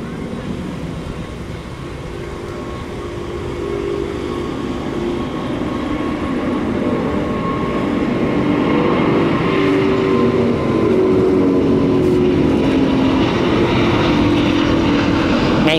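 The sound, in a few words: China Airlines Airbus A350-900 taking off from Tan Son Nhat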